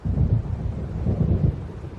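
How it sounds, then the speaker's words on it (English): Deep rolling thunder from an approaching storm in the video game Alan Wake Remastered, a low, heavy rumble swelling and pulsing for a couple of seconds with no other sounds. "It seems there's a storm coming."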